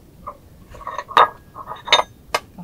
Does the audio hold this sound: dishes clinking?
yes